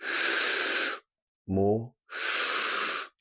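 A slow, deep breath drawn in during a guided relaxation exercise, heard as a long, soft airy inhale, then a pause, then another long breath, with a brief spoken cue between them.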